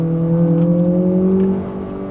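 A Lexus RX500h F-Sport engine holds a steady, droning hum as the paddle shifters drop a gear, its tone rising slightly before easing off toward the end, heard alone and close.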